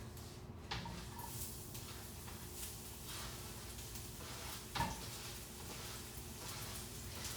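Vegetables sautéing in sesame oil in a pan during a Chinese dumpling cooking class, a steady, soft sizzle and crackle throughout, with a couple of light knocks against the pan.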